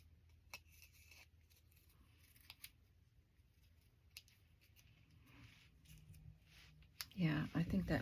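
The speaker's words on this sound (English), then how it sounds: "Let me just cut one out without gluing it and see what I think." Scissors snip through paper for a lemon-themed journal tag, a few crisp cuts near the end of a quiet stretch with faint rustling and small taps.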